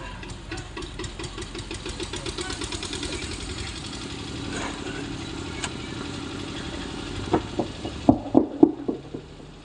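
A running generator keeps up a steady, rhythmic engine chug at moderate loudness, with a few sharper knocking beats standing out toward the end.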